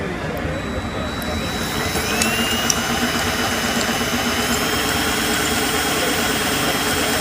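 A 3D printed differential gear train spins at around 1000 RPM, giving a steady mechanical whir with a faint high whine that holds evenly throughout, under a continuous hum.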